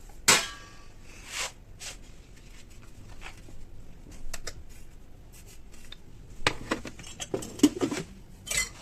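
A frying pan is handled while cut pieces of pastry dough are laid into it, giving a few sharp metallic clinks and knocks at irregular intervals between quiet stretches, close by.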